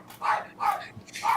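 Dogs bark indoors, three sharp, loud barks in quick succession, each a short punchy burst close to the listener, with no talk over them.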